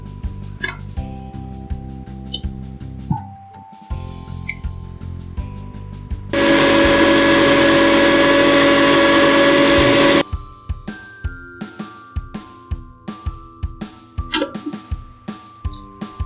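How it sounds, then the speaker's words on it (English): Mixer grinder jar whirring as it grinds oats into powder, a loud, continuous roar lasting about four seconds, set between stretches of plinking background music. "we'll be using the mixer attachment of the jar"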